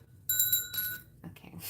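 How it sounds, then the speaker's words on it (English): A bell struck once, giving a bright ringing tone that sustains for a moment and fades, with faint room noise afterward. "and ring the bell."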